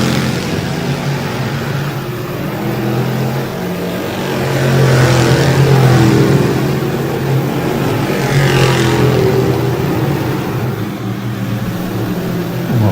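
Sportsman class race cars at a speedway roar as the green flag drops, a dense, sustained engine drone that swells loudly as the pack accelerates and passes, with no voices over it.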